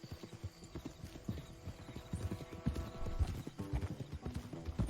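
Horse hooves clip-clop steadily at a riding pace in the Red Dead Redemption 2 video game, close and rhythmic, with occasional snorts and game sound underneath.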